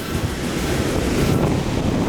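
Ocean waves roll onto the beach at Pantai Liman below Bukit Liman, facing Pulau Tabui, a steady wash of surf mixed with heavy wind buffeting the microphone, dense and unbroken with no voices.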